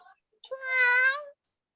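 A single drawn-out cat meow, close and fairly loud, rising and then falling over about a second, with a short faint vocal sound just before it.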